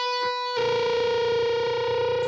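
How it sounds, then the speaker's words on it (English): A distorted, effects-laden electric guitar note is pulled off from the 12th to the 11th fret on the 2nd string, ringing out loud and sustained after a brief faint pluck beforehand, with no voices. "we're going to pull off into the 11th fret of the 2nd string"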